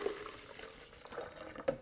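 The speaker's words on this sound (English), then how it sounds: "pour that into our blender" Warm strained broth trickles into a blender, a soft, close, steady liquid pour with a few faint splashes.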